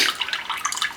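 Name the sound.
water being drained out of a plasma cutter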